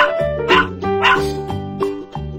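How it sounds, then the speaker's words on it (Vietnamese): A puppy barks five times in a quick, even series, each close, loud, high-pitched yap. "Puppy. Puppy. Con chó con."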